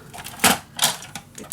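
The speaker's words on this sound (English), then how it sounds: "I'm gonna use this cutter for now" A paper cutter slices through paper while a Christmas December Daily mini album is being made: four short, crisp swishing cuts, close and fairly loud, with quiet pauses between them.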